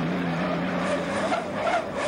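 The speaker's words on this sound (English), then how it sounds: "Hear the whine of the propeller." A racing hydroplane on the Ohio River at Evansville, Indiana, in 1986 gives off a loud, sustained, high propeller whine that sags slowly in pitch as the boat passes, with the engine roar underneath.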